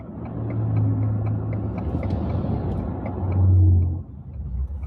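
Cars roll past on a road near a house, a low engine rumble that swells and fades as each one goes by, moderately loud and close, with no talking.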